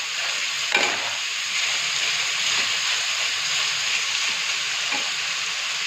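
Potatoes fry in a pan with a dense, even sizzle that holds steady throughout, marked by a few soft stirring scrapes and clinks.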